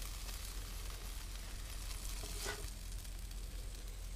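Blacktip reef shark meat fries in a Teflon pan with a steady, quiet, even sizzle throughout and one short louder spatter near the middle; no one speaks.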